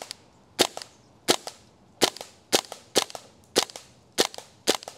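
A propane-powered airsoft gun fires BBs from a standard magazine, about nine sharp, loud cracking shots in an uneven but steady cadence, each followed by a brief snap.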